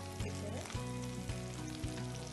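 Flour browning in a pan alongside chicken and vegetables, a steady hiss and sizzle with repeated scraping stirs at a regular pace, close up under low kitchen hum.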